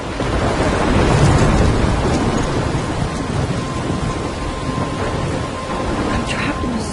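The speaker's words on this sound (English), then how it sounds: "I'm trapped in a storm?" A loud, dense thunderstorm from the game Life is Strange, with driving rain hissing steadily and a deep rumble swelling early on, filling the whole stretch without letup.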